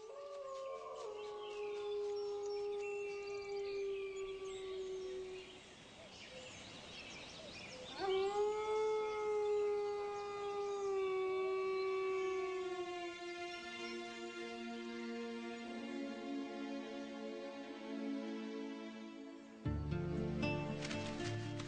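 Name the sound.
young lone male wolf howling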